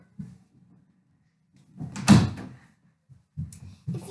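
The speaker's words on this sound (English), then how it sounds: "Let me close this door." A door swings shut with a single firm thump and rattle, preceded by faint shuffling and followed by a couple of soft knocks.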